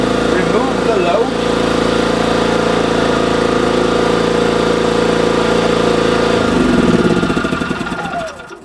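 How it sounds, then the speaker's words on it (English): A Hyundai HY3200SEi inverter generator runs with a steady, loud mechanical drone that holds for several seconds, then shifts tone and winds down near the end, with a voice speaking over it. "with the generator running, you can apply the load"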